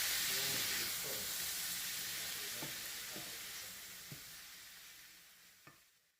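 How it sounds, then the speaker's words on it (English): Fried cabbage stir fry being stirred in a hot pan, a soft sizzle and hiss fading over several seconds with a few faint scraping clicks of the spoon. "So I'm just going to give this a stir"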